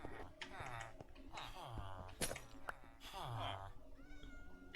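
Several Minecraft cats meow again and again near an iron farm, with short overlapping calls at moderate loudness. Steady talking continues over them.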